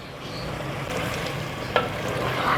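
Arvi gosht, a taro and meat curry, fries and is stirred in a clay pot, giving a steady close sizzle with a few scraping stirs and one sharp knock partway through.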